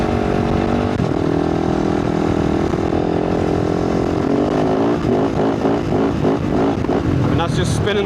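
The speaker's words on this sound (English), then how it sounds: "that's just spinning the wheel, spinning it in this sand" A motorcycle engine drones steadily and loud, then revs in rapid pulses as its rear wheel spins in desert sand; the bike is running a 51-tooth rear sprocket.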